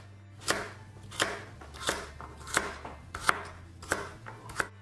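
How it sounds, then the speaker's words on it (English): Knife slicing halved carrots on a cutting board, seven crisp evenly spaced chops ringing out close and clear in a quiet kitchen. "I'm just going to line them up and start slicing down"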